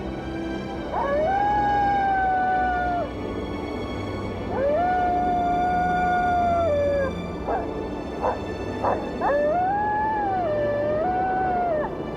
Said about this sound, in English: The call of the coyote.